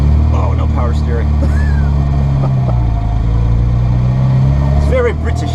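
A 1987 Mini Cooper engine idles with a steady low rumble throughout, close and continuous, while people talk over it.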